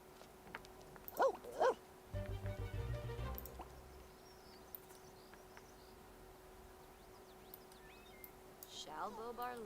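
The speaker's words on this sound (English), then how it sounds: "Oh no, she brought the dog inside by accident" A dog in The Sims 4 gives two short, sharp barks near the start, followed by a few faint whimpers and yips, with a low rumble of game sounds and music running underneath.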